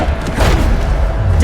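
A Bombarda spell explosion in Hogwarts Legacy gameplay, one short, heavy booming blast that fills the brief moment, loud and close, with a voice calling out over it.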